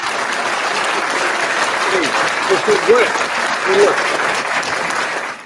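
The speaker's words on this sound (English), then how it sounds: "Give a round of applause for that soundbite." Loud sustained applause from a crowd fills the whole clip, with a few voices calling out faintly beneath it before it fades.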